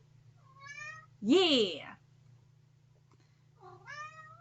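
Two drawn-out, rising-and-falling house cat meows sound up close in a room, one at the start and one at the end. A short human vocal burst falls between them, over a low steady hum.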